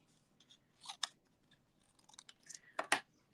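Scissors snipping through a piece of card for a handmade card, a few quiet, close crisp cuts in clusters with no talking.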